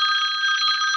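A mobile phone rings during a board meeting with a bright, steady electronic bell-like tone, loud and close, sounding alone without any talking.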